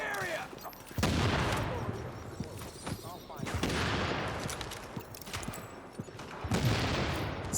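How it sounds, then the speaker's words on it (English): Gunfire in a shooter video game: a few sharp bursts of shots ring out at irregular intervals over a busy, noisy game soundscape, each burst loud and close. "Where did those shots even come from?"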